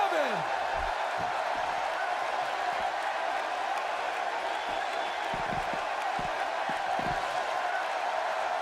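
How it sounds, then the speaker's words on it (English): Arena crowd in the WWE 2K16 wrestling game during a Roadblock 2016 match, a steady, dense roar of cheering that holds at an even level from start to finish without breaks. "by the sound of this crowd, I think they're getting what they wanted"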